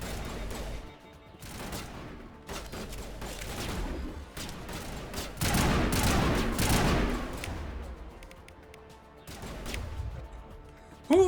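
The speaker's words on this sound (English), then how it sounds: "Who's using a pistol?" Bursts of gunfire in Mass Effect, including pistol shots, come in several loud, sharp clusters separated by short pauses, with one heavier, denser volley in the middle.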